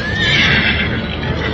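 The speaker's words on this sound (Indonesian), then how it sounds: "Wah, kuda-kuda banyak sekali mengepung rumah." Several horses whinny loudly in a radio-drama sound effect of a crowd of horses surrounding a house, the high neighs overlapping in one brief burst with faint hoof clatter below.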